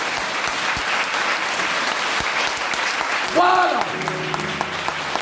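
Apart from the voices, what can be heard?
congregation applauding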